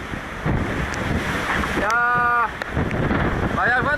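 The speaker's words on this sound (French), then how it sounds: "Ça, si on a de la chance, c'est notre dernier grain pour la sortie du poteau noir" Strong wind from a squall roars across an ocean racing sailboat amid waves and rigging noise. The gusts hold loud and steady, a voice speaks over them, and brief tonal whistles cut through.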